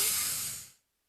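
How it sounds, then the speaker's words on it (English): A single Vicks Sinex nasal spray spritz, a close, bright hiss lasting under a second before cutting off into silence. "Use the Vicks Sidex nasal spray, would you?"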